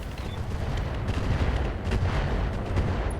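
Mech weapon systems fire in the RogueTech video game, a dense, continuous barrage of gunfire-like bursts and booms rolling steadily across the whole stretch with no talk.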